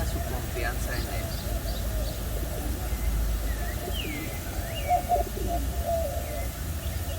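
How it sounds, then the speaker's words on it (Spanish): Pet birds kept indoors, including doves, coo and chirp softly at a moderate distance over a steady low background hum, with scattered short calls throughout. "¿Les gustan estas aves que tengo aquí?"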